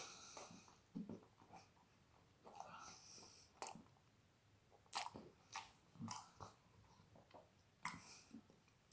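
Close, wet chewing of a mouthful of cheese, with irregular bursts of mastication and soft crunches over several seconds and no talking.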